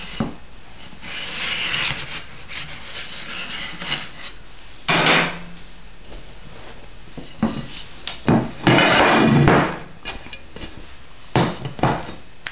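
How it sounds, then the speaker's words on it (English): A knife scrapes around the metal edge of a rhubarb upside-down cake pan, then the pan clanks as the cake is flipped onto a plate; intermittent scraping, rubbing and knocks, close and fairly loud, no talking. "run a knife around the edge and invert it onto a plate"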